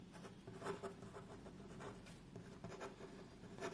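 Writing on a board during a physics lesson: quiet scratchy strokes in short irregular bursts, close and soft, with no talk.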